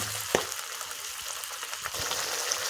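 Tomatoes with a yogurt and sugar mixture sizzle steadily in a hot pan, a continuous close frying hiss with a small clack from a utensil near the start and a second soft knock later.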